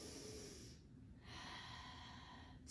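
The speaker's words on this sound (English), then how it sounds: "3 more deep breaths, so deep inhale" Deep inhale through the nose during a lower body roll-out exercise: a long, close, breathy rush of air, a brief pause, then another drawn-out breath, soft and steady.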